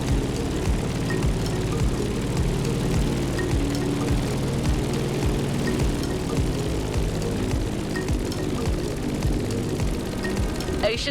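A propeller airplane drones low over downtown Honolulu among towers and skyscrapers in The Crew Motorfest, its engine a steady loud throb with a pulsing rhythm that holds throughout.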